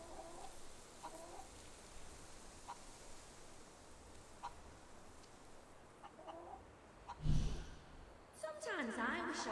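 A chicken in the video game Fable III clucks in soft, scattered bursts over a steady ambient bed, with a louder thump midway and a busier flurry of clucks near the end.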